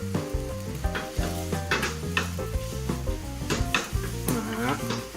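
Tamagoyaki egg mixture frying in an oiled pan, a steady close sizzle with chopsticks or utensils knocking against the pan in irregular taps.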